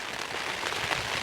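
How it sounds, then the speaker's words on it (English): Heavy rain falls on a Hilleberg Akto tent, a dense, steady patter, close and continuous, with no voices. "hopefully the rain will go away enough"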